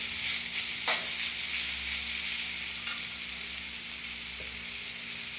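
Bamboo shoots sizzling steadily in a frying pan, a loud continuous hiss close by with a couple of faint clinks from stirring.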